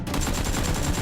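Rapid toy Nerf gun fire: a quick string of evenly spaced pops in a one-second burst, loud and close, with no voices.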